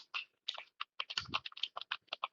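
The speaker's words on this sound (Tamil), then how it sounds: "நான் உங்களுக்கு டைப் பண்ணி காமிக்கிறேன்." Someone types a search on a computer keyboard, a quick irregular run of close, crisp key clicks with short pauses, one heavier thump mid-burst, and no talking.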